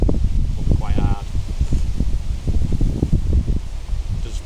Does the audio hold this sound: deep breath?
no